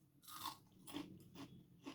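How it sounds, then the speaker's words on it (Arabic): Crispy fried cauliflower in a spiced coating crunches under repeated bites, four or five sharp crackling bursts close to the mic, fairly quiet overall. "سامعين القرمشه اهو"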